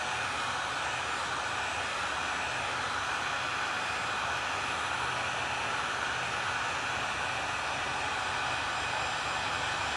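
A hair dryer blows a steady, loud, unbroken whoosh while drying paint on a bee welcome sign, running close and alone throughout.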